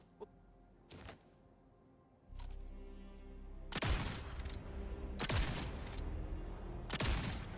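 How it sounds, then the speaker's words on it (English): Gunfire in the video game Jump Ship, with scattered shots at first and then a run of loud, sharp reports roughly every one to one and a half seconds over a droning low background hum. "You shooting me through walls?"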